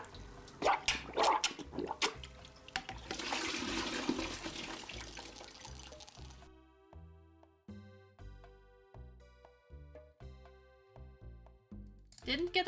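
Toilet flushing in a point-and-click detective video game, a loud rushing gurgle of water for several seconds, followed by a rhythmic plucked game music loop.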